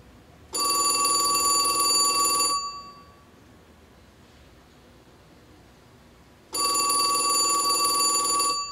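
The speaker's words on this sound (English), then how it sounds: "It has a nice ring to it, don't you think? The old phones," An old 1970s telephone's mechanical bell rings in two long bursts, each about two seconds of bright metallic trilling, separated by a few seconds of quiet. It is close, clear and without speech.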